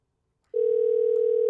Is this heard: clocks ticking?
no